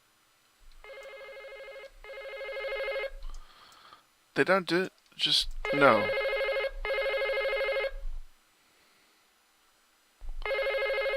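Phones ring in the video game Second Life, loud electronic trills in repeated bursts separated by short gaps, with a person talking briefly in the middle.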